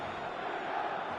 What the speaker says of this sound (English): the crowd level has gone up a notch or 10